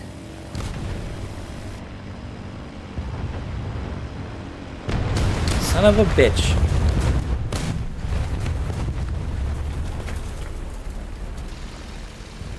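A dive bomber's bombs go off in War Thunder as a heavy, rumbling explosion swells and lingers over a constant engine drone amid battle noise, with a man briefly cursing over it.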